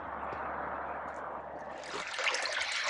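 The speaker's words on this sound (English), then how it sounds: "This crystal clear spring water is open year round for those who need it and use it" Crystal clear spring water trickles and splashes at a public watering hole in Alaska, a steady close rush that grows louder and brighter near the end, with no voices.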